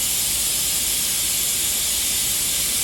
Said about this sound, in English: now I'm gonna open the valve, and we can start pumping.